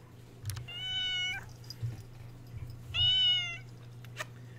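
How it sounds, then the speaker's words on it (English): A female house cat, a former tenant's pet, gives two drawn-out meows separated by a pause, close and clear over a steady low hum. "Now, here's another kitty you don't normally see."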